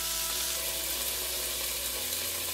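Homemade hamburger steaks fry in a pan, a dense, steady sizzle filling the whole short stretch, close and even, with no voices.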